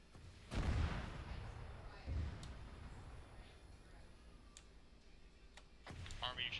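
Rifles fire in a ragged volley in the Arma 3 military game: a loud crack, a second shot a moment later, then another near the end, with players talking over the quiet gaps.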